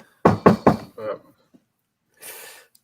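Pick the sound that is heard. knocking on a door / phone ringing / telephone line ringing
knocking on a door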